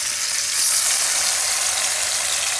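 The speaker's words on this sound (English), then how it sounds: "And I'm just gonna shear them on this side" Bison steaks sear on high heat in a hot pan, giving a loud, steady, close sizzle that holds evenly throughout with no talking over it.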